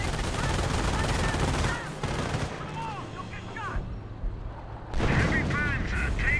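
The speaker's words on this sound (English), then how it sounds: "We have the MG42 suppressing down the Rifleman." An MG42 machine gun fires in bursts in the World War II strategy game Company of Heroes, mixed with other battlefield gunfire while a commentator talks over it.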